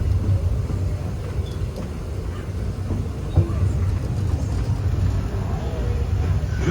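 Disneyland Railroad train rolling steadily along its track, a continuous low rumble with faint clicks and creaks from the cars, while a recorded announcer speaks over it.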